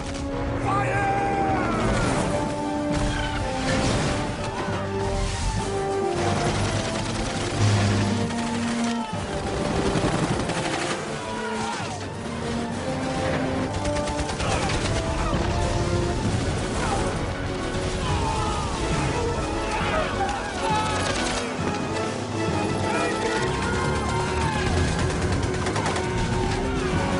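Battle gunfire in a movie scene with troops attacking on both flanks, heard as dense, continuous volleys of shots and crashing impacts layered under shouting voices and a loud score.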